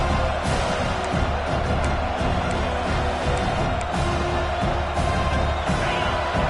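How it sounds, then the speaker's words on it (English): A stadium crowd at a Georgia vs. Arkansas football game roars in a dense, continuous wash of cheering and whoops that stays loud throughout. "This crowd bringing the energy and noise early."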